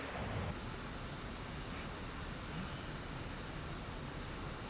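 Steady, dense engine and wind roar from an Aermacchi MB-339 jet flying in Microsoft Flight Simulator 2024, constant in level throughout with no talking.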